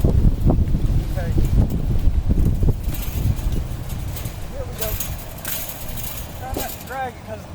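Gusty wind blows across an outdoor backyard and buffets the microphone with a low, loud rumble, while a person talks over it throughout.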